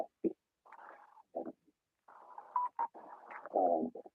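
A phone notification chimes as a short run of choppy, warbling electronic tones, broken up by brief gaps, at a moderate level with no voices.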